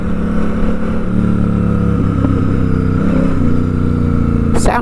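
Custom Royal Enfield Interceptor 650 being ridden, a steady loud engine and exhaust drone with low rumbling throughout, closing with a brief sharp noise.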